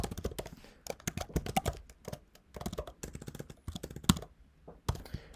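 Quick bursts of typing on a computer keyboard fill in a web form, the keys clattering in irregular clusters with short pauses between them, close and fairly crisp with no talking.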